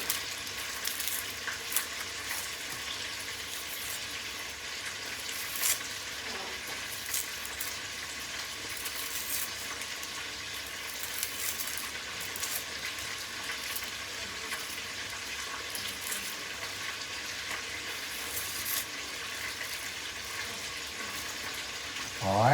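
Small red onions frying in a pan for Spanish rice and chicken, a steady crackling sizzle with intermittent stirring clinks, continuous and close throughout.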